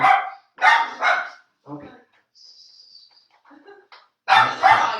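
A dog outside barks in loud, close bursts, a double bark at the start and another pair near the end, with a brief spoken word in the quiet gap between.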